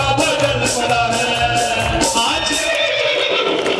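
A horse neighing loudly, a drawn-out whinny with faint hoof clip-clop, heard close within a busy, full-volume devotional music mix.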